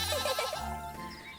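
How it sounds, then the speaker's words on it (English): A goat in a video game bleats in a quick, wavering, nasal cry, close and clear, with one short repeated bleat trailing off at the end and no talking. "You know this goat?"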